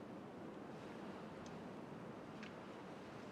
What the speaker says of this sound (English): A little bit of back and forth of the water.